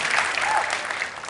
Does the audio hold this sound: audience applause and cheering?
yes